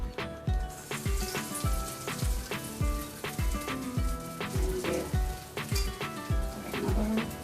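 Falafel frying in hot oil, a bright crackling sizzle over a regular series of low thumps about every half second, close and steady, with no voices.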